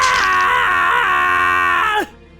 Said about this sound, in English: He screamed out loud in pain.